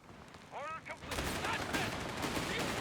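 Machine gun fire in the World War II strategy game Company of Heroes 3 erupts after a brief voice, becoming a dense, continuous rattle of rapid shots that fills the rest of the moment.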